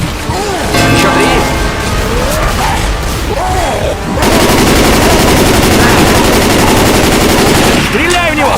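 Loud, dense gunfire in Left 4 Dead 2, rapid automatic bursts and blasts with crashes, nearly continuous and filling the clip, with brief gaps and a voice shouting over the shooting.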